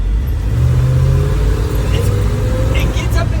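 A 1977 Ford F150 pickup's engine revs and pulls away, a loud continuous low rumble with rising harmonics, heard close up while people talk over it.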